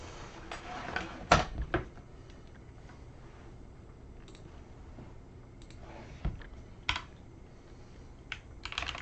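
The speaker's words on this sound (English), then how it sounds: "So let's go ahead and type that." Typing on a computer keyboard, irregular clusters of close, crisp key clicks with a few louder taps and short pauses between bursts, with no talking.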